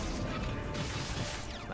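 A heavy impact crash from the Epic Seven video game, part of a Requiem Rowena combo, lands in a dense wash of layered effects and game noise, short and loud with no voices.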